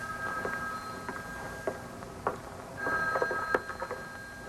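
A telephone rings faintly in an indoor setting, its thin electronic trill repeating under a quiet, cluttered room background.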